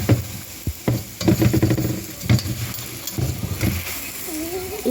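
A chapati cooks in a little oil on a pan over an open fire, sizzling close by under repeated clatters and scrapes as it is turned, with a brief rising squeak near the end.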